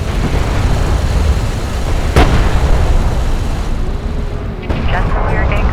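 A light attack vehicle blows up in the real-time strategy game Homeworld: Deserts of Kharak, a loud rumbling blast and a sharp crack amid continuous battle noise, with a computerised voice speaking over the din.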